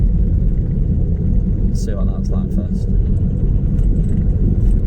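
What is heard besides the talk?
car driving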